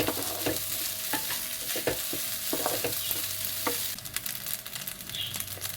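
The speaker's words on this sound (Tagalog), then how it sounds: "magpiprito tayo ng dried pusit at" Dried squid and anchovies sizzling and frying in a pan, a steady bright crackle with occasional stirring scrapes, close and continuous, no talking.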